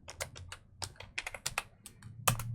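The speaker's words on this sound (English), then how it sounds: "All that typing is just lost to the universe." Rapid clicking of a computer keyboard, a quick irregular burst of keystrokes close and clear, with no voice over it.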